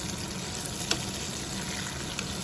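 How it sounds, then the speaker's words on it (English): Pork ribs deep fry in oil with spices, a steady dense bubbling sizzle close up, with a couple of faint clinks, and no voices. "and then we can fry"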